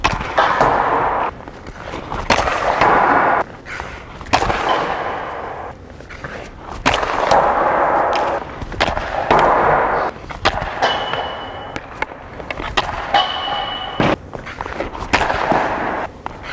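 Ice hockey shots with Bauer Nexus 2N Pro and Vapor 1X LITE sticks, a series of sharp cracking slaps and thuds coming every second or two, close and loud, with scraping between them.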